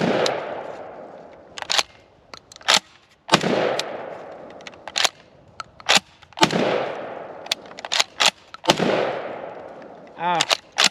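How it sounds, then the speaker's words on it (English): Shotgun blasts from an IWI Tavor TS12 bullpup firing Federal target loads on an outdoor range, about eight sharp reports in uneven succession, each with a decaying echo, and a brief metallic rattle near the end. "First shots from me out of the TS12."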